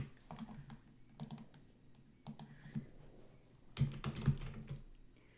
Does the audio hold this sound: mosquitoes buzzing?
no